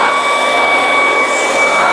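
Loud, steady high-pitched whine of a Ryobi 18V HP cordless stick vacuum running up close while cleaning floor mats, with a constant motor tone and airflow rush.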